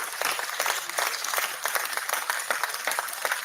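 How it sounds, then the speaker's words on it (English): Steady applause from a group of people, many hands clapping continuously at a moderate distance, with no talking. "Clapping noises."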